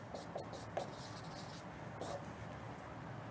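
Quiet pen-on-paper scratching while a diagram is drawn by hand: a few short strokes and rubs over a low, steady background hiss.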